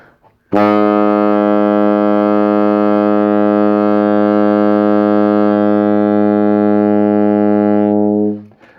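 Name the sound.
saxophone low B flat note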